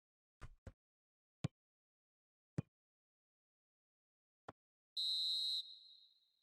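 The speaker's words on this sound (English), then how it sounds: "Referee looks at his watch and blows his whistle." A referee's whistle in the football video game PES 2020 sounds one sharp, shrill blast near the end, following a few scattered isolated clicks in near silence.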